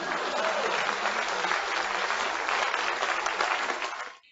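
Sustained applause from an audience at a comedy and storytelling show, dense steady clapping that holds for about four seconds before quickly dying away, with no talk over it.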